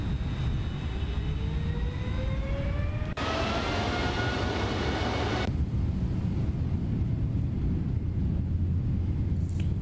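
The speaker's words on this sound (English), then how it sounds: "We are taking off from Abu Dhabi" A Boeing 777 jet takes off from Abu Dhabi in a flight simulator. A steady broadband engine roar holds throughout, with rising whining tones over the first seconds and a brief brighter surge in the middle.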